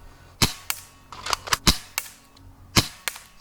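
A spring-powered airsoft sniper rifle fires at a target outdoors; several sharp snapping cracks with springy twangs arrive irregularly, close and loud, with no talking.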